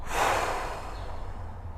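A deep, breathy exhale during a breathing exercise in a golf fitness workout, close and audible, strongest at the start and tapering off over about a second and a half.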